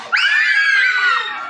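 Classroom children shriek in unison on cue in a song about feelings, a single loud, high-pitched scream lasting over a second, with no other voices.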